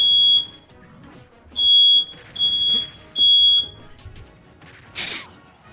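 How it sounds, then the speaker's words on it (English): Household smoke alarm set off by a preheating oven, shrieking in four sharp piercing beeps with short gaps, close and loud, with clattering and a crash-like burst near the end. "My fire alarm is so annoying."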